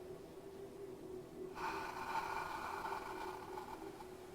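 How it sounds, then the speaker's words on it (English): A single sustained breath pushed out through the mouth during a beginner hip-opening practice, a soft breathy rush that swells after a quiet pause and holds steady to the end, close and alone with no talk. "When we exhale, we're going to exhale through the mouth."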